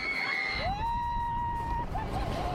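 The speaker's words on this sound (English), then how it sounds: "With 4 major coasters at the park, this is where most of the screams come from" Distant screams of riders on roller coasters at Silverwood Theme Park, a long wavering shriek over a steady wash of outdoor crowd noise and background rumble.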